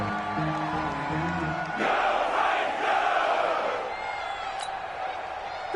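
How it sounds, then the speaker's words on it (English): Crowd in a Madden football video game roaring before a big third down, loud sustained cheering that swells and then eases off, following a brief stretch of a voice talking. "the crowd getting into it as we come up on a big 3rd down"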